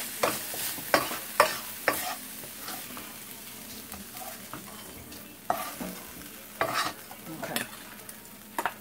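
Coleslaw mix frying in a pan, stirred with sharp scraping strokes at irregular intervals over a steady sizzle; one short spoken word.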